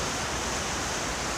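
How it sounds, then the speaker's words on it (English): The South Fork of the Coeur d'Alene River flowing, a loud, steady, broadband rush of water that stays even throughout with no other sounds on top. "I guess that's still the Coeur d'Alene River. I think it's the South Fork."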